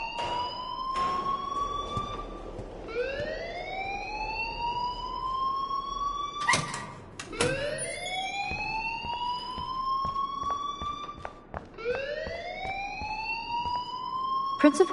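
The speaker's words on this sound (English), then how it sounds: "please turn off that alarm since that's your job" A rising, wailing siren-like alarm sounds in the Life is Strange video game, sweeping upward repeatedly in long cycles, loud and continuous with clicks and faint background sounds between sweeps.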